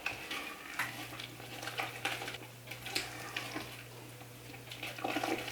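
Eggs, honey, vanilla and melted butter mixed in a pot for gluten-free corn cakes, a wet scraping and stirring sound in repeated strokes close by, with a faint steady hum underneath.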